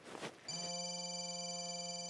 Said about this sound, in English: Is that the phone I'm calling?